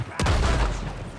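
Gunfire in Red Dead Redemption 2 during an alley shootout: two sharp, loud shots, one near the start and another at the very end, with a booming tail ringing between them.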